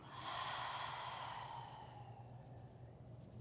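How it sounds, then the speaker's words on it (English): A single slow, deep exhale through the mouth in a gentle yoga session, close and soft, swelling then fading over about three seconds above a low steady hum. "Take one more deep inhale through your nose. Exhale through your mouth."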